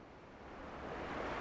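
Ocean waves wash up a sandy beach in a steady broadband surge that builds gradually, mixed with some wind, with no voices present.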